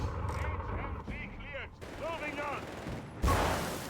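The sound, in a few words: machine gun fire in Company of Heroes 3 video game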